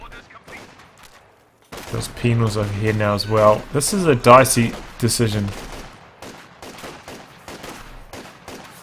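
Sharp sniper shots and scattered battle gunfire crack in a Company of Heroes 2 1v1 match, sitting under lively spoken commentary.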